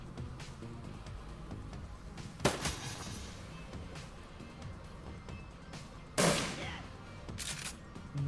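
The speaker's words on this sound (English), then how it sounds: "that was a shotgun blast that removed AP" Shotgun blasts in the video game Shadowrun Returns: two loud, sharp broadband bursts several seconds apart, with a third quieter burst after the second, over a steady game soundtrack bed.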